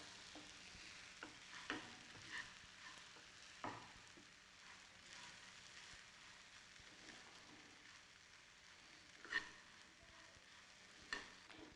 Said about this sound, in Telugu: సో మనం ఇప్పుడు స్లోగా మరమరాలను యాడ్ చేసుకోవాలి